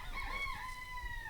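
Chickens at the Loving Hands Chicken Ranch, with a sustained, rooster-like crowing call rising over a low, steady outdoor rumble.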